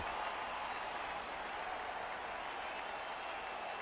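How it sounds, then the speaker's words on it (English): A crowd of fans applauds and cheers in the Blood Bowl fantasy football game, a faint, steady wash of clapping and crowd noise with no clear peaks. "Cheering fans again."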